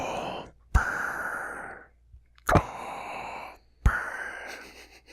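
Three slow, heavy breaths rasp loudly into a close microphone, each starting with a sharp attack and then trailing off in a Darth Vader style imitation, with short pauses between them.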